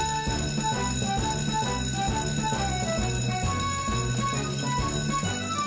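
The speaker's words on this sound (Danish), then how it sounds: "Det er ikke falsk alarm denne gang, Sam. Charlie har selv slået alarm" A cartoon fire station alarm bell rings in a continuous, insistent metallic clang with a steady rhythmic pulse, loud and unbroken, and no talking over it.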